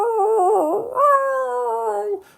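A human voice imitates a dog whining, giving a high, wavering whimper that dips and then rises into a long, sustained howl-like note, clear and close with nothing behind it.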